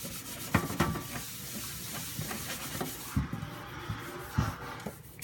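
Hands scrubbing tacky oil off a surface with a DIY orange-oil scrub mixture, soft irregular rubbing and swishing strokes with occasional louder scuffs, close and fairly quiet.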